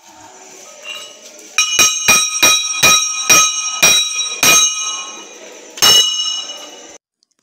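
A metal bell at an Islamic boarding school rings with about eight sharp, resonant strikes in an uneven rhythm, each clang ringing out over a quiet background before a final hit and an abrupt stop.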